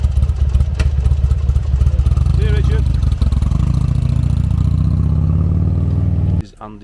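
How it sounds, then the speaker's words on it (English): A Buell motorcycle idles and pulls away close by, its loud, lumpy engine note climbing and then cutting off abruptly near the end, with someone talking over it. "Richard just leaving on his Buell"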